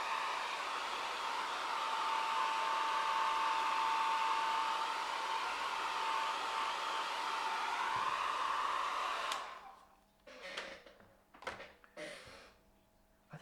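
A hair dryer blows steadily on a watercolor painting for about nine seconds, a loud constant whirring rush, then switches off, leaving soft handling clicks and rustles.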